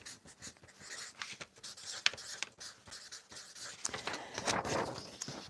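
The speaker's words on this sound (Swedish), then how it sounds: "Nu ska jag skriva här." A pen writes on paper up close in quick scratchy strokes and taps, with short pauses between bursts of scribbling and no talk.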